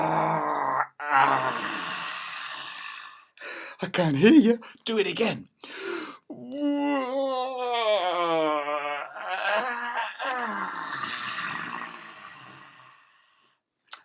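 Children's voices imitate a grizzly bear waking from hibernation, with long drawn-out groans and moaning growls rising and falling over several seconds, and an adult voice speaking briefly between them.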